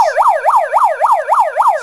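A wailing emergency siren sweeps up and down in a fast, regular rhythm, about six cycles in under two seconds, loud and close with no one talking over it.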